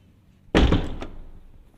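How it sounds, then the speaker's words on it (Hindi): A door closes with one solid, nearby thunk that rings briefly and fades, in a lab or department building. "दरवाज़ा हम लोग बंद करके जाएंगे।"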